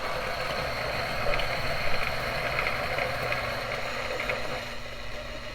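A DF64 coffee grinder fitted with an anti-popcorning disc grinds beans with a steady whirring drone and faint crackling, running continuously and evenly up close.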